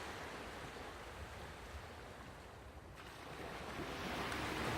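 Yacht Milda under way at sea on the passage from Fiji to Vanuatu, with a steady loud rush of waves and wind noise across the microphone, swelling slightly toward the end.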